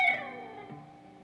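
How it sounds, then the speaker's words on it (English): A picked electric guitar note on the high E string at the 15th fret slides down the neck, starting bright and fading quickly as the pitch drops, with no other sound. "you're going to slide down the neck of the guitar."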